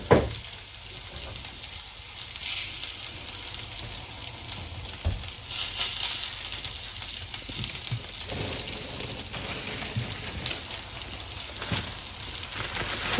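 Small sausages fry in a pan at breakfast, giving a steady, dense sizzle with crackling spits throughout, fairly close and continuous with no talk.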